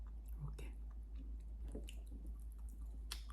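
Close-up soft, moist chewing of a spoonable cream cake with chewy injeolmi rice cake pieces inside, small squishy bites and clicks repeating over a low steady hum.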